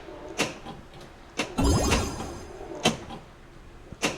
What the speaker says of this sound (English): Left blast door closed.